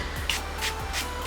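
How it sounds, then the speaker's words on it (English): e.l.f. Dewy Setting Mist sprays in several quick, hissing spritzes, close and fairly loud, with soft handling shuffles between them. "gonna go ahead and spray my face here with the e.l.f. Dewy Setting Mist"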